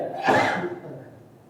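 A single sneeze, a sharp burst that trails off quickly, close by and fairly loud in a quiet room.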